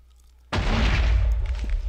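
A Minecraft explosion bursts suddenly and loudly, then trails off in a long, rumbling roar of debris.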